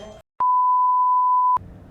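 A single steady electronic tone from a phone, lasting about a second with abrupt start and stop, loud and close, with muffled background chatter before and after.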